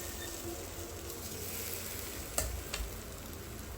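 Marinated taro root pieces fry on a hot tava with a soft, steady sizzle, faint and even throughout, with a couple of small clicks from pieces being set down.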